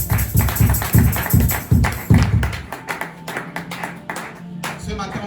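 A church congregation claps and applauds, with a burst of loud, fairly rhythmic hand claps that soon thin into scattered, quieter claps and taps as the room settles.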